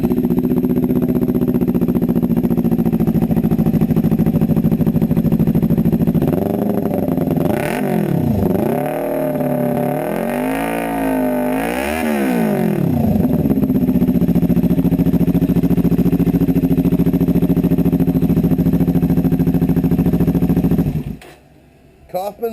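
A motorcycle fitted with Coffman exhaust mufflers idles with a loud, steady rumble, is revved up and down several times in rising and falling swells, then settles back to idle before cutting off.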